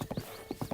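Horse hooves clop in Breath of the Wild: two quick groups of sharp, close hoofbeats separated by a short quiet gap.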